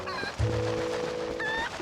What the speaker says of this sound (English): Come here, chicken.